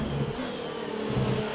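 A Formula 1 car engine in the F1 China Virtual Grand Prix video game snarls steadily at high revs in first gear, a loud, continuous buzzing whine that swells slightly toward the end.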